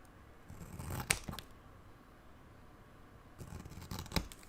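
Scissors snip through the spine section of a book cover: two short, crisp cutting bursts about three seconds apart, quiet and close, with no talking.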